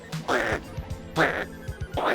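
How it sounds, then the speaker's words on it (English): Duck quacking in several loud, close bursts of nasal calls, roughly three clusters spaced about a second apart, with a faint voice in the background. "We had a chicken, now we got a duck."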